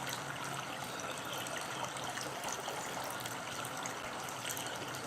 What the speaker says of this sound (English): We're going to charge this water as you pour it in